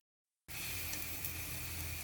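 Butter dropped into a hot kadhai for pav bhaji, a sudden loud sizzle that starts abruptly after a moment of silence and keeps hissing steadily.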